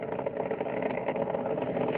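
Space Shuttle Atlantis on its final launch in 2011, its three liquid-fuel main engines throttling back during ascent: a dense, steady, unbroken roar that fills the whole clip with no break or voices.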